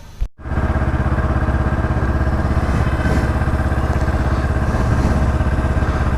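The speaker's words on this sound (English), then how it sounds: "So I'll be riding my Ninja 250 today." A Kawasaki Ninja 250 motorcycle engine runs at a steady, loud idle up close, a continuous even burble that follows a brief thump.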